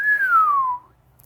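A single drawn-out whistle, rising briefly then gliding steadily downward in pitch for under a second, clear and close with nothing else around it, voiced by a narrator imitating someone whistling at a person.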